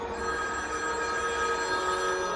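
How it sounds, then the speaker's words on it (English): A telephone rings steadily in a house at about two in the morning, a continuous metallic bell tone filling the moment with no voices. "the phone rang"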